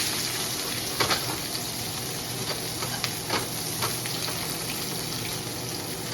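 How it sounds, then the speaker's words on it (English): A steak sears in olive oil in a hot pan, a loud, steady sizzle and crackle with occasional sharper pops and spits, continuing without pause. "Trying to keep that olive oil nice and even on there to give it that nice sear."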